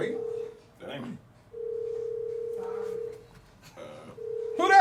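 A telephone gives a steady electronic ringing tone in long, repeated stretches, with people talking over and between the rings.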